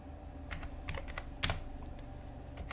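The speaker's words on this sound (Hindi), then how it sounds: "जैसे आप सेल पर कुछ भी नंबर टाइप करते हैं या दशमलव वाला नंबर टाइप करते हैं" Fingers tapping digits on a computer keyboard while entering numbers into a spreadsheet cell, a quick irregular run of close, light clicks with one sharper keystroke midway.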